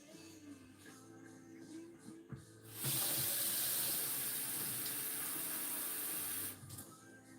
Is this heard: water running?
yes